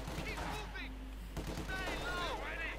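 An MG42 machine gun fires in Company of Heroes 2, heard as quiet bursts of gunfire beneath battle noise and scattered game effects, with no talk over it.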